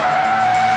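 A Mitsubishi Evolution's tires skidding on the Infineon Raceway, a steady loud squeal with engine noise underneath, close and unbroken through the moment with no talk.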